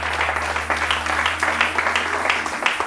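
A church congregation clapping and applauding during a sermon, a steady dense patter of many hands with a low hum underneath, continuous for about three seconds.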